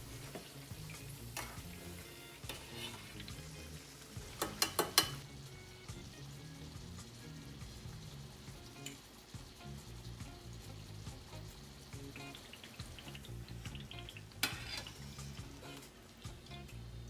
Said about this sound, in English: Fry them until they have a golden color on each side.